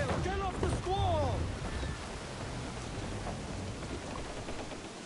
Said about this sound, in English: Get this bloody storm out of here